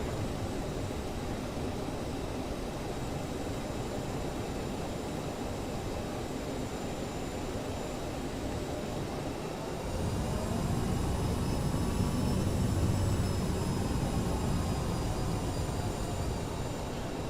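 Aerosoft CRJ regional jet taxiing in Microsoft Flight Simulator, a steady broadband engine roar that swells louder and brighter about two-thirds through, with whining turbine tones rising overhead; no talk.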